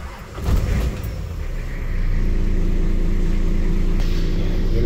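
A Nissan Patrol engine cranks and catches, then settles into a loud, steady close-up idle, started during a power steering leak test after a loose screw was found.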